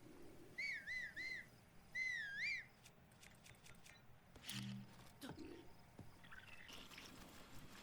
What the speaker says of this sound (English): then I was going to attract attention by whistling.